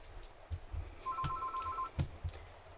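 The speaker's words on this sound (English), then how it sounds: "As you probably heard, the phone went and I had to go and answer it" A telephone gives one short, faint electronic ring in a quiet room, alongside a few soft knocks and handling noises.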